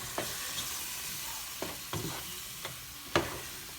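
Chicken sausage and meats sizzling in a gumbo pot, a continuous loud frying hiss punctuated by several sharp stirring clacks and scrapes, the final one the strongest.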